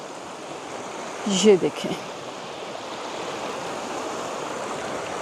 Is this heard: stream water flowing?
yes